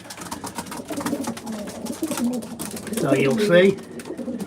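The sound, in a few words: racing pigeons cooing at the nest box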